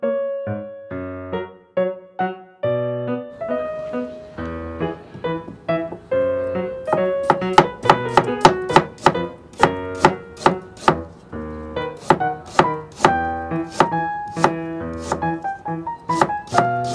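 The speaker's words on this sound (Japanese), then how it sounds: "このようにちょっと厚めに切ります。" A knife slices ginger into thick pieces for homemade, uncooked sushi gari. Steady rhythmic chops on a board start slow and grow quicker and denser after a few seconds, close and crisp, with music playing underneath.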